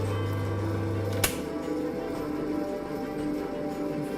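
A polishing machine works on traditional Ossetian women's jewelry with a steady, close whirring hum. A low drone drops away after a sharp click early on, and the motor keeps running evenly without a break.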